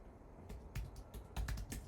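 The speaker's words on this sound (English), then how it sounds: "sorry, I'm typing quick" Fingers type quickly on a computer keyboard, a faint run of irregular key clicks and taps over a low background hum, close by with no voices.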